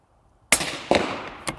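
Suppressed gunshots from a rifle fitted with a Silencer Central Banish 30-V2 suppressor, fired at a SHOT Show 2025 range: three sharp, dull cracks, each trailing into a short echo, with no talking.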